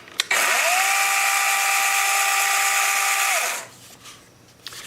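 Wild Badger 20V 12-inch cordless battery chainsaw revving up, running at a steady high whine for about three seconds, then winding down; close and loud, alone.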